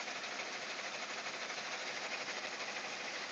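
A sewing machine running slowly along an existing embroidery stitch line, giving a faint, steady whirring buzz with a fine rapid needle rhythm and no pauses.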